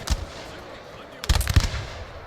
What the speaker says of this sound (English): Okay, this tower is firing.